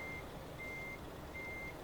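Truck reversing alarm in Euro Truck Simulator 2, three evenly spaced steady beeps over a constant engine and road rumble, no one speaking.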